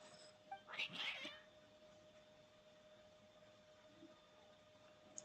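Cats in the video game Genshin Impact meow in an agitated way, giving a short burst of two or three cries early on, then a faint game soundscape continues.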